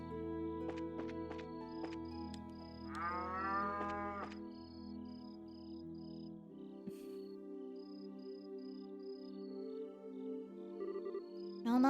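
Cattle moo in a cow stable in the video game Trails in the Sky, a few deep drawn-out lows over a soft musical backdrop with chiming notes, moderately quiet.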